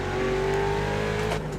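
A Mustang race car engine in the racing game iRacing at Sebring, a loud steady high-revving drone held near and close with a slight pitch rise and brief shift near the end.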